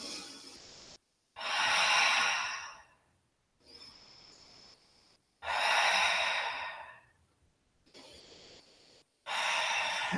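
Slow, audible breathing during a yoga arm stretch: three long, airy exhales alternating with quieter inhales, close and fairly soft, with brief silent gaps between breaths.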